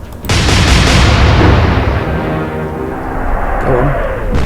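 Naval gunfire in the warship strategy game Atlantic Fleet: a sharp cannon blast opens, then a long loud rumbling roar decays slowly, with a second softer report near the end and no talk.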